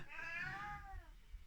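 A pet cat named Jack Kirby gives one long, rising-then-falling meow for attention, quiet and nearby, fading into soft background noise.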